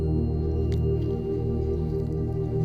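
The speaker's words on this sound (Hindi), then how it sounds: "अब इसमें अच्छा बॉईल आने लग गया है" A spiced home remedy of ginger, turmeric, crushed cinnamon, cloves and cardamom bubbles at a steady boil in a pot, giving a continuous low simmering rumble with soft wet popping throughout.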